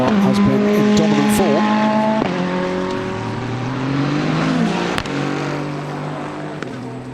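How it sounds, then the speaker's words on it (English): The number 8 Iron Lynx race car passing through the Monza chicane, its engine loud and close, revs dropping and climbing as it shifts gears through the corner, with commentary over the top. "Through goes the number 8 Iron Lynx car"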